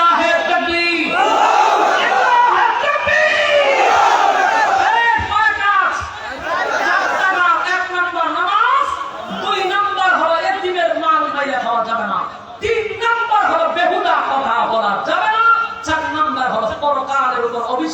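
Large congregation at an Islamic sermon shouting a chant together, loud and dense, many voices rising and falling in waves for the whole stretch without pause.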